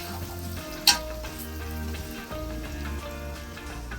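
Sliced onions with curry leaves frying steadily in hot oil, a continuous close sizzle and crackle with one brief sharper pop near the start.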